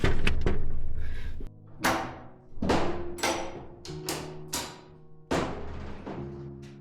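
A wooden door at a small mountain cabin in the Vercors high plateaus produces a series of hollow thuds and knocks, several distinct strikes spaced irregularly, close and fairly loud.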